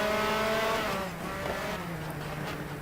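Race car in the GTR2 racing game, set in 1988 at Westwood, Canada, accelerating at full throttle: a steady engine drone with rising harmonic whine, held loud and continuous, a tire squeal faintly mixed in.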